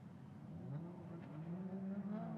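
Race cars in a drifting chase run, including a Nissan Skyline R31, with engines rising and falling in pitch as they rev, fairly distant and faint, with tire noise underneath.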